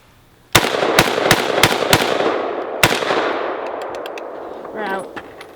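Gunshots fire outdoors at steel targets, including an orange swinging target. Six sharp, loud cracks come in a quick irregular string, each followed by long ringing decay, and a brief voice comes near the end.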